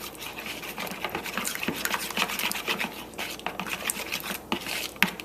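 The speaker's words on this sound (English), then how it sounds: "I'm going to blend this mixture." Batter of prune apple baby food and cake mixture is blended with a whisk or spoon in a bowl, giving a steady rapid scraping and clicking that continues throughout, close by.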